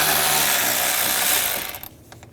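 A ratchet turning an 8mm socket to back out a screw on a 2013-2016 Dodge Dart 2.4L during AC condenser replacement, a steady fast clicking whir that stops abruptly near the end.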